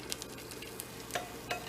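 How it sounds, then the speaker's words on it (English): Eggs sizzle gently in a moderately hot pan for chicken fried rice, a soft continuous crackle close by with a couple of brief scraping stirs. "we're going to fry these a little bit so that they're like scrambled eggs"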